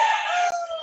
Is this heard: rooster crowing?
yes